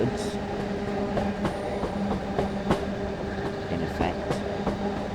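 A train passes in Train Sim World 5, a steady rumbling roll with rhythmic clicks and clunks of wheels over track joints, fairly close, while a voice talks briefly over it.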